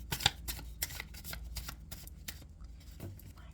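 Small, thin deck of plot cards being shuffled, a quick flurry of soft riffling flicks and slaps, close and quiet, irregular and uneven in rhythm.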